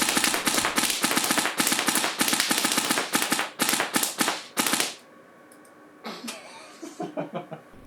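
A real-life airsoft aimbot gun fires in full auto, loud rapid bursts of snapping shots broken by short pauses, then after a quiet gap a few softer, scattered cracks and clicks as it moves between targets.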